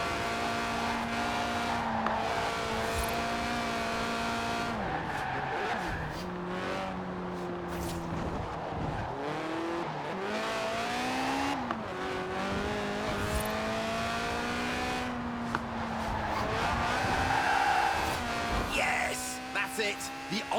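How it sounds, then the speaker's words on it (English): A car drifts in Forza Horizon 4, its engine revving hard and tires squealing in long sweeping slides, with repeated throttle surges and shifts throughout, loud and close. "the honourable art of drifting"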